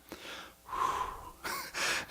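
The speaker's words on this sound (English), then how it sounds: "Breathe, Matt." A man breathes heavily to calm himself: a few deep, audible inhales and exhales close to the microphone, separated by short pauses, with a small click at the end.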